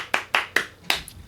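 Four crisp hand claps in an even, fairly quick rhythm, close and loud, with no talking over them.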